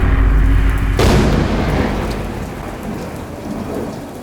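A loud thunderstorm with a sudden close thunder crack that rolls and fades under steady heavy rain and wind, no voices.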